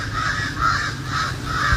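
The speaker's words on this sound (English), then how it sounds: "See, there's just a few birds passing now" Crows cawing outdoors as a few birds pass overhead, a repeated rhythmic caw of roughly four calls over steady background noise.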